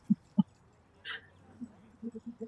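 A Chihuahua whimpering indoors, two short soft yelps, then a thin high whine and a few faint low whimpers, close and quiet.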